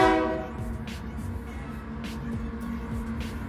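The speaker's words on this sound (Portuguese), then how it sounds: "Ó o trem." A train rolls past with a horn blast at the start fading out, followed by a steady rumbling clatter of wheels on rails.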